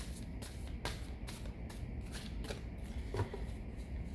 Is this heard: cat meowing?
no